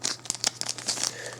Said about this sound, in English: Screw it, we're going to use scissors.